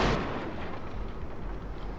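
Explosive artillery shells striking infantry in Total War: Shogun 2 Fall of the Samurai, a heavy boom at the start followed by a rumbling, crackling wash of impacts and distant gunfire.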